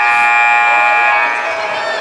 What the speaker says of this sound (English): Why does somebody always have this timer on his on his camera on his phone?